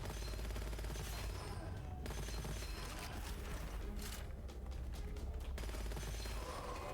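Gunfire in the video game Gunfire Reborn: dense, rapid bursts of shooting and mechanical clatter filling the whole stretch, loud and continuous with brief gaps.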